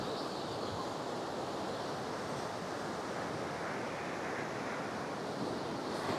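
The Alaknanda and Dhauliganga rivers rushing together at the Vishnuprayag confluence, a constant wide roar of fast water mixed with wind buffeting the microphone, steady and unbroken throughout.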